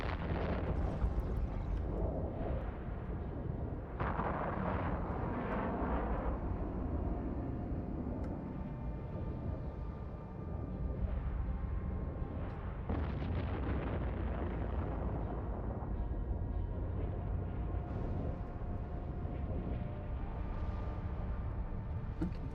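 A ship in the space game EvE Online under fire, heard as continuous loud explosive bursts and rumbling booms with no pause and no talk.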